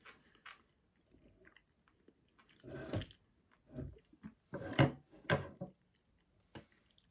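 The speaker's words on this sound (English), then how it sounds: "Give me a moment to chew on this." Someone chewing a chewy Scandinavian marshmallow-like candy, close-up with irregular sticky bites and squishy mouth sounds in short bursts and pauses, no talking.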